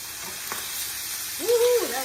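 Tuna pieces sizzle in a hot frying pan as they are flipped: a steady, soft frying hiss with a brief tonal squeal near the end and no talking.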